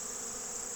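Bees foraging on a tall stand of buckwheat flowers during a fall honey flow make a steady, dense hum that stays constant and close, with no voices.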